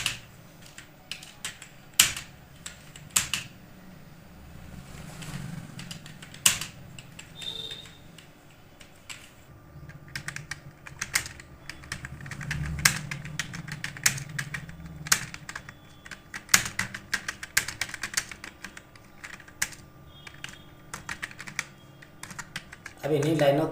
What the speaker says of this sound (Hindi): अब इन्हीं लाइनों को तेज इस प्रकार से टाइप करेंगे आप